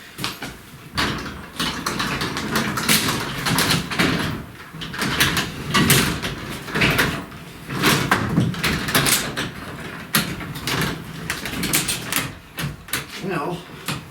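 A newly installed garage door, still without its spring balance hardware, rumbles and rattles continuously as it is raised by hand, with loud clunks along the track and talk over it.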